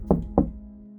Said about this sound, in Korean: 창문을 두드리는 소리에 깨게 된 거야.